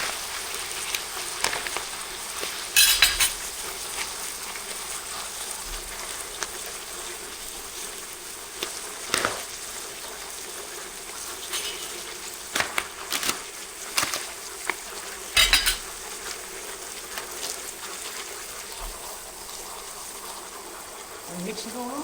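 Pork and beef mince sizzle and crackle in a pan amid a steady frying hiss, with scattered scraping and clattering as the meat is stirred and mixed.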